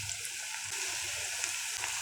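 Cubed potato pakoras, flattened and dropped into hot oil, hiss with a steady, bright sizzle with small crackles and pops running through it.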